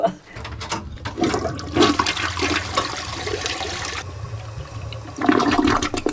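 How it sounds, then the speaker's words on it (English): A toilet flushes in a hotel bathroom, a loud rushing gush of water that surges, holds steady, then swells again near the end, with faint talk in the background. "That seems like a pretty good flush."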